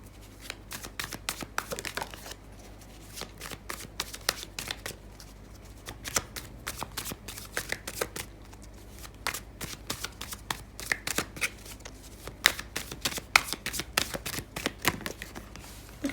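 A Commonplace Tarot card deck is shuffled by hand, a close, crisp run of rapid riffles and flicks that repeats steadily with no talking.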